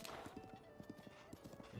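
Horse hooves clip-clop in a steady rhythm in The Legend of Zelda: Breath of the Wild, with a brief whinny mixed into the game's music and ambience.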